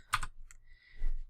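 A computer keyboard is tapped: a quick pair of crisp key clicks, then a faint tap and a duller thud a moment later, close and alone.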